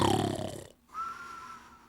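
Loud, rough snoring from a TV advert for Douce Nuit, an anti-snoring mouth treatment, heard up close for a moment before cutting to near silence and a thin sustained tone.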